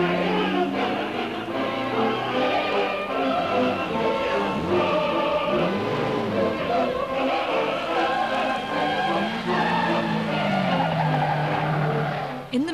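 Ferrari sports cars race hard, with engines revving and changing pitch and tires squealing through corners, loud and close throughout, with possible voices underneath.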